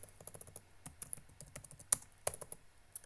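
Quick, quiet typing of a command on a computer keyboard, with a rapid uneven patter of key clicks and a sharper keystroke near the end, close and soft with no talk.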